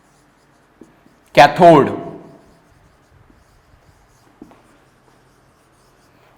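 Chalk or marker writing on a board during a chemistry lecture, a brief scratchy stroke burst followed by faint taps, with a lecturer's voice speaking over it.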